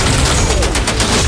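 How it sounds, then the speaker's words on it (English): Iron Man's special 3 micro missiles fire in a video game, a loud, dense burst of rapid launches and popping explosions crowding together over a second or so. "Micro missiles. And so that's the special 3."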